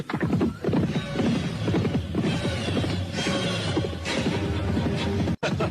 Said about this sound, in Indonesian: Untung saja kita dapat menemukan kuda baik ini.